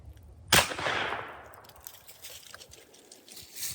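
A single sharp gunshot fired up into a tree to knock down mistletoe, a loud crack followed by a decaying rustle and scatter of falling debris, then quieter outdoor noise.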